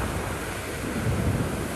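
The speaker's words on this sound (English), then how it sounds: "Video verified by Reuters showed strong winds and waves hitting an oceanfront hotel" Strong storm winds and pounding waves batter an oceanfront hotel during a cyclone storm surge, a continuous loud roar of wind and surf with heavy low rumbling surges.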